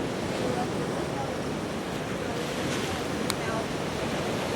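Ocean waves roll onto a beach in Ghana in a steady, full wash of surf, with wind rushing over the microphone and no clear breaks in the roar.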